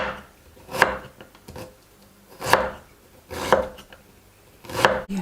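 A knife chops ginger finely on a board, four sharp distinct strikes spaced about a second apart, close and clear with quiet pauses between them.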